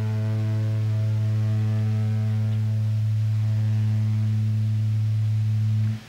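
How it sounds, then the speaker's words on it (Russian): A sustained A note given for tuning a bass guitar, a steady low droning tone with strong harmonics held evenly for about six seconds before cutting off, alone with no talk. "Я дам вам ля для настройки."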